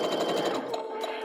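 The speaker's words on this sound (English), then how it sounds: "So now you just want to sew your 1/4 inch stitch all the way down what should be about 2 1/8 yards of fabric" A sewing machine runs steadily, stitching a quarter-inch seam along a long length of quilting fabric, its fast rapid needle chatter loud and close with no talk.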